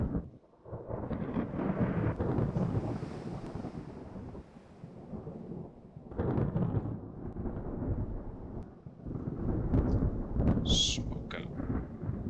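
Storm in the naval game Ultimate Admiral: Dreadnoughts near Hong Kong, repeated swells of deep rolling thunder with rain noise beneath, rising and fading in three waves, no talk.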